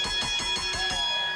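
A wrestling ring bell rung repeatedly in quick succession at a live match in Birmingham, a string of bright metallic clangs with ringing overtones that blur together, loud and close.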